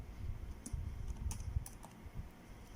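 Typing on a computer keyboard in an Excel lesson, a few quiet irregular key taps over a low background hum, close by and without talking.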